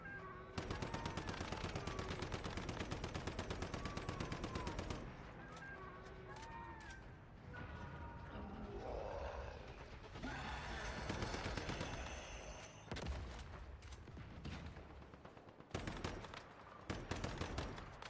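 An enemy opens fire in a video game, sending rapid bursts of gunshots over busy game sound and music, with occasional voices and short pauses between volleys.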